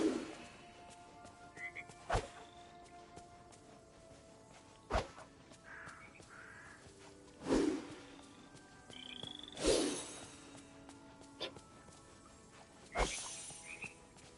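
Purple frogs at a small stream croak in scattered short calls over a quiet outdoor background, punctuated by several sharp nearby knocks and rustles, with no talking.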